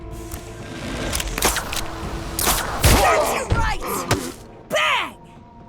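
A Twitch Shot fires in a video game as Selma eliminates the Hunter. Loud, close bursts of gunfire and heavy impacts mix with grunting voice effects and a final whooshing swell.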